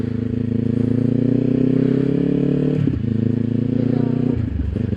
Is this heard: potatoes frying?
no